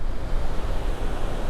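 Water rushing over the Tobacco River Dam in a steady, dense roar, broadband and continuous like heavy surf, with some wind buffeting the microphone and no voices.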